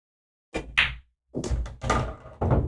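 Cue striking balls in a game of straight pool, a few sharp knocks and clacks spread over a couple of seconds, close and moderately loud with brief quiet gaps.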